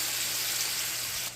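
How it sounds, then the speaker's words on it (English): Wine hits a hot pan of softened shallots and sizzles loudly in a steady hiss that cuts off abruptly near the end. "Once our shallots are softened, we can go in with the wine, and then we're gonna let that reduce."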